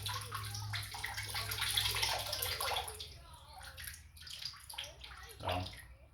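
Water draining out of a hydrographic dipping tank, gurgling and splashing at close range in uneven surges, fading at times and then rising again near the end.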